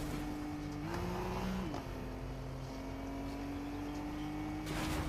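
A car driving in a video game, its engine humming steadily with a few pitch shifts as it changes speed, moderately loud and accompanied by faint background noise.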